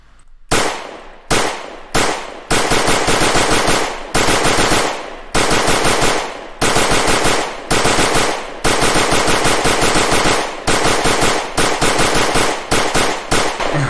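Gunfire in a zombie shooting game made in Wick Editor: loud, dense bursts of rapid machine-gun fire repeat in long runs with short gaps between them, harsh and close, with no talking.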